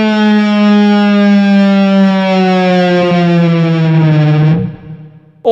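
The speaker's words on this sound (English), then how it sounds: "So let's play a harmonic on the 12th fret on the A string. And then push that whammy down." Slow whammy bar dive bomb on an electric guitar, the 12th fret harmonic on the A string played through distortion and effects, a loud sustained note bending gradually lower for several seconds before cutting off, followed by a short new attack.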